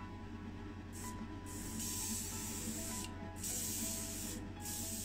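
Steady hiss of an airbrush or spray can laying clear blue paint onto a small die-cast Matchbox Saab 9000 Turbo model, close up and continuous, with a few brief pauses between passes.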